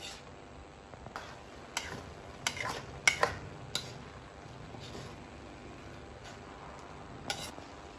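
Pancit noodles with tofu being stirred and fried in a pan at home, with scattered clattering spatula-on-pan scrapes and knocks over a faint steady sizzle; no talking.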